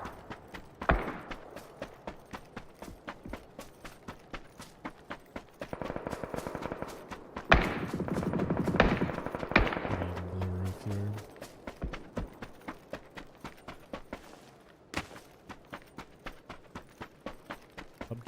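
Rapid bursts of gunfire in PUBG, dense strings of sharp cracks running through the whole stretch, with a louder sustained burst in the middle and scattered single shots after it.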